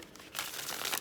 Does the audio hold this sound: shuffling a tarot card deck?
yes